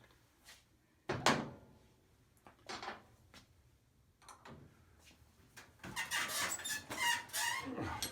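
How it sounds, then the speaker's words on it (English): A table squeaks and creaks under strain during a slip torque test of hydraulic tool-holding equipment, with several short squeals and knocks at first, then a louder, denser run of squeaking near the end. "As you can tell by the table squeaking, I think I got it pretty tight."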